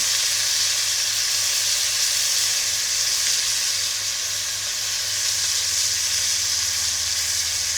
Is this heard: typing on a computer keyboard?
no